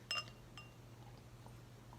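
Glass clinks sharply near the start, then a softer tap follows, as Lone Star American lager is poured into a beer glass; a faint, quiet pour trickles underneath over a low steady hum, with no speech.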